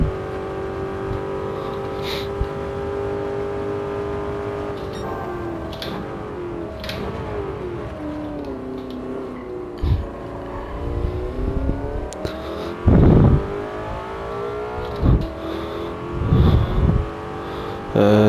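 Car engines in Gran Turismo 7, racing with modern and classic cars mixed on the same track, loud sustained revving with shifting pitch, rising and falling as gears change, and sharp bumps and thuds later on.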